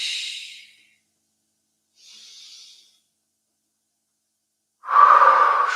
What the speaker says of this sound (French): Inspire profondément.